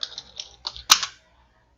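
Quick keystrokes on a computer keyboard while a YouTube video title is typed, a run of close, crisp clicks ending in one harder tap, then near silence before a final click.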